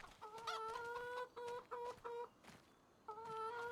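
Chickens cluck in a farming game, Farm Simulator 25, in a run of short repeated bursts with brief pauses between, fairly close and alone without talk.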